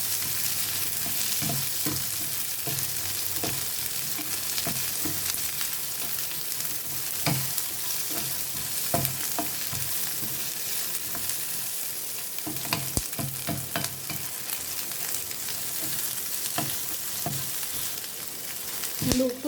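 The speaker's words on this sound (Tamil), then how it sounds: "சிம்மில் வச்சே வறுத்துக்கோங்க" Chillies fry in a pan over a low flame for onion chutney, giving a steady soft sizzle with occasional scraping stir clicks throughout, close and continuous, no talking.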